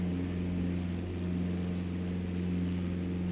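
A PA-28-161 Warrior II single-engine propeller plane climbs out on takeoff in Microsoft Flight Simulator, its engine making a steady, loud, continuous drone with a low hum throughout and no voices.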